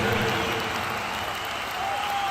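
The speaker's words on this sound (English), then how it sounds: "A big round of applause for" A crowd claps steadily in a continuous patter of applause, moderately loud and sustained throughout.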